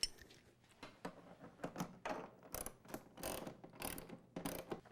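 Bolts are tightened on a DR leaf and lawn vac cart, giving a run of quick ratcheting clicks in uneven bursts, close and fairly quiet, with no voices.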